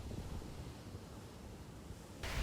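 Sea waves roll against an eroding Ghana shoreline, a steady broadband roar with wind buffeting the microphone, and a sudden louder gust-like surge at the very end.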